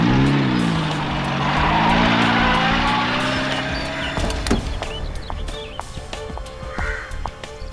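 A car engine runs loud and close, then pulls away and fades, leaving quieter outdoor background with a few light clicks and a distant bird.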